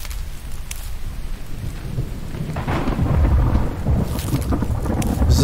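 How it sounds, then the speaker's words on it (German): Thunder and rain from a thunderstorm in the game The Infected fill the clip. A steady hiss of rainfall sits under rolling low rumbles that swell louder toward the end, with no voices. "Ich mag dieses Gewitter bei The Infected."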